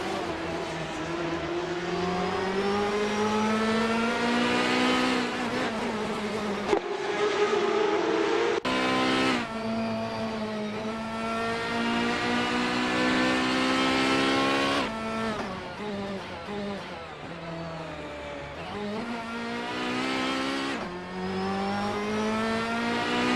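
Ferrari 355 Challenge race cars at the Jerez circuit, their engines screaming continuously at high revs with rising and falling pitch as cars accelerate, shift and pass, loud and close throughout.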